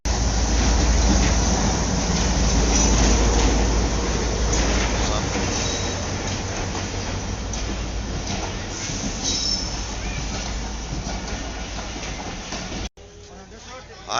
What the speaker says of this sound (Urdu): جیسے اب ٹرین آئی ہے، آپ دیکھ رہے ہیں